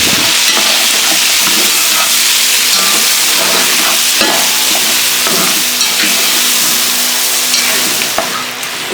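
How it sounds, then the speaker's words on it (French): Whisky hits a pan of sizzling wild boar civet, setting off a loud, dense frying hiss with steam and crackle that holds steady and fades slightly at the end. "Et là, on va ajouter un peu de whisky dedans."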